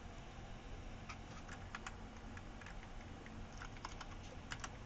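Faint, rapid computer keyboard key clicks, a scattered few taps for a Shift+8 press, heard over a low steady hum with no speech.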